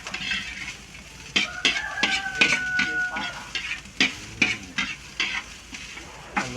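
Beef pata (hock) cooking with onions and peanut butter in a pan, stirred with a metal utensil: repeated scraping strokes and clinks over a steady sizzle, close and fairly loud.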